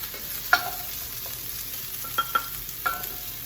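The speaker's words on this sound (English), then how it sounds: "it's amazing how quickly the mushrooms cook down" Mushrooms cook down in a pan for a ground beef and vegetable soup, giving a steady sizzle broken by a few sharp clinks and scrapes from stirring.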